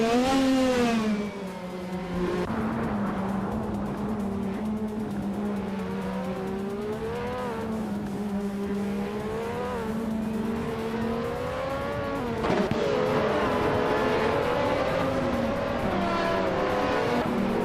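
Formula One race cars at full racing speed, including a Williams, an Osella and a Minardi M188, with tight corners and narrow sections. Several high-pitched engines scream steadily and overlap, with rising and falling pitch as the cars accelerate and pass, loud and continuous with no talk.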